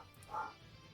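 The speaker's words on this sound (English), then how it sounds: "Is there a dog outside?" A single muffled dog bark from outside, brief and faint at a distance over quiet room tone.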